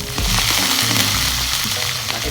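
Cumin seeds sizzle and crackle in hot oil as a tempering for Gujarati kadhi, a steady close frying hiss with bursts of crackle, while low kitchen sounds and faint voices rumble underneath.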